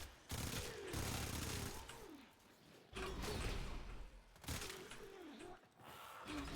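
Dual Afuris Prime submachine guns in Warframe spraying rapid bursts of gunfire, three long rattling volleys with short gaps between them, mixed with whooshing game effects.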